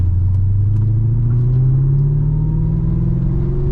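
A classic Australian car drives along, its engine holding a steady, loud, close rumble that rises slowly in pitch as it gathers pace, with no voices.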